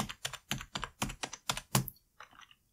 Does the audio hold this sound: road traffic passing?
no